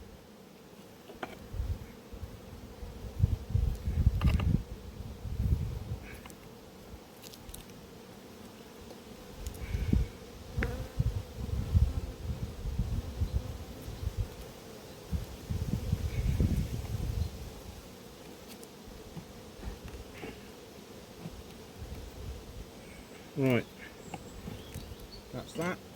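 A honeybee colony at an apiary hive drones with a close, swelling buzz that rises and falls as bees fly past, mixed with rustles and handling noises; someone speaks briefly.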